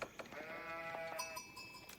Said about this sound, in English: We already hear those sheep being collected by the scout